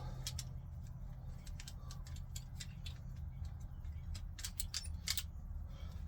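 Pink household wire is snipped off near wire nuts, with a rapid series of short, crisp cutting clicks in bursts over a quiet low hum, close and fairly faint.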